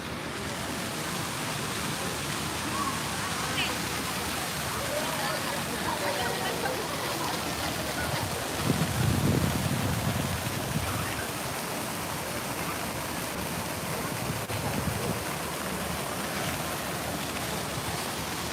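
Water flowing steadily in an urban water feature in downtown Toronto, a continuous broadband rush heard up close, with a brief louder surge midway and faint city background.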